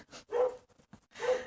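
A neighbours' dog barks twice in two short separate bursts, somewhat distant and faint, with quiet between.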